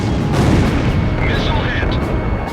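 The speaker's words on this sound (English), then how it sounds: "Missile hit!" A missile explodes in the Ace Combat Zero: The Belkan War flight game, a loud, dense rumbling blast that rolls on continuously over engine roar, with faint tones above.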